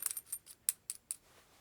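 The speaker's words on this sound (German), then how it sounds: "Wenn ich hier die Hülse nochmal drauf stecke" Metal sleeve pushed back onto a cable plug: a series of small, bright metallic clicks and taps, several in a row with brief gaps, close and quiet with no talking.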